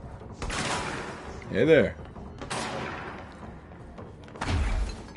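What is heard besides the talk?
shotgun gunfire in the video game Control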